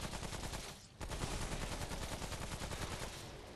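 Weapons fire in Remnant: From the Ashes as rapid, loud bursts of gunshots, close and continuous, with one short break before the shooting resumes.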